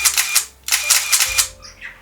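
A Nikon F3 film camera's motor drive firing in rapid bursts, several quick mechanical whirring clicks in two close runs, loud and near, then a short winding hum.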